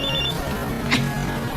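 A cellphone rings with an incoming call, a short electronic ringtone that sounds steady and close for under two seconds, with no voices.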